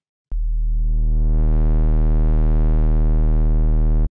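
Low D sharp sine wave bass from oscillator A in the Serum synthesizer, heavily distorted, holding one loud sustained note whose harmonics fill in and brighten over about four seconds before it cuts off cleanly.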